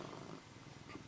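A cat purrs steadily up close, a soft continuous rumbling drone with a faint pulsing rhythm, low in level and alone.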